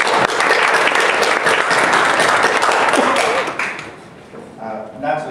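A lecture audience applauds steadily to welcome a guest speaker, dense clapping filling the room for several seconds before tapering off into scattered claps.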